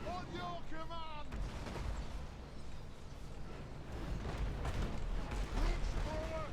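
Dwarf artillery fires in a Total War: Warhammer battle, low booming blasts rumbling amid the clamor, mixed with shouted unit voice lines and battle noise.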